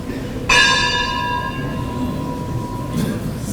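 A single bell strikes with a bright, ringing onset and a long shimmering decay that fades over a few seconds, heard alone against a low background murmur.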